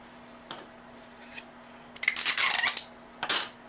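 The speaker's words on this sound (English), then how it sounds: "I'm going to tape these down" Tape tearing and crinkling as popsicle sticks are fastened onto a puppet: a few short rips, then a longer burst of tape pulled and pressed down, close and fairly loud.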